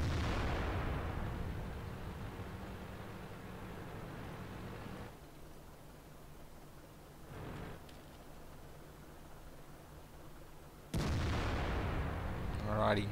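Tank cannon fire in World of Tanks during a tournament match: a loud booming blast that rumbles away, a fainter distant shot in the middle, then another sharp loud shot near the end.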